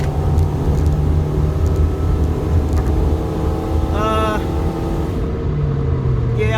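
A Nissan Altima that has lost power accelerates hard in third gear from 60 mph toward 80 on a warm, humid day, giving a steady loud engine drone with road rumble heard from inside the car.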